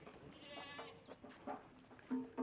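Goats on a farm in Canada let out a few faint, wavering bleats, the last ones near the end, over quiet outdoor background noise.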